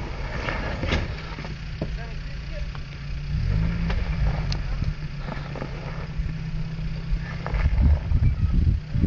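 A car engine revs and rumbles steadily after the brake is let go on a winter outing, low and continuous with a few sharper bursts, while voices talk over it.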